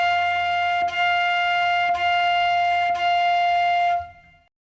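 Four short tongued F notes on a flute, evenly spaced and closely connected, played clearly and close by with nothing else heard.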